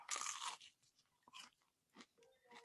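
Close chewing of crunchy hot wings reheated in an oven, with a loud crisp crunch at first and then several softer crunching bites in an uneven rhythm, quiet overall and with no talking.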